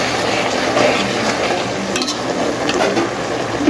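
Chalta pickle being stirred in a pan as it cooks, heard as a steady close sizzle with continuous scraping and stirring and occasional light clinks of utensil on metal.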